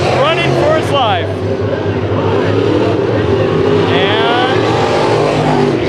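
Race cars roaring around Bakersfield Speedway during a heat race, a loud continuous engine drone with rising and falling revs as cars pass, under an excited announcer's commentary.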